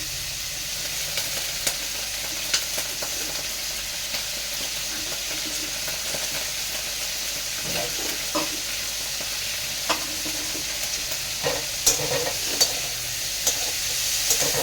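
Onions sizzling and frying steadily in a pan while dal is being made, a continuous close crackle with occasional stirring clicks and scrapes, no talking.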